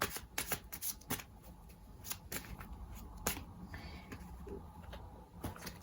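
Tarot cards being shuffled in a rapid, crisp riffling flutter with sharp snaps between, close and fairly quiet, with no talking.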